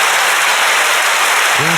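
An audience applauds during a motivational talk about relationships, a steady, loud wash of clapping that lasts throughout, with a voice coming in near the end.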